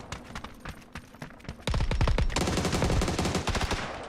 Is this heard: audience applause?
no